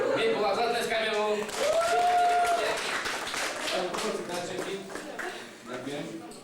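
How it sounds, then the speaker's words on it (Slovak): An audience claps for Saint Nicholas, its scattered clapping rising beneath loud talk and a drawn-out call. "Mikuláš, zatleskajme mu."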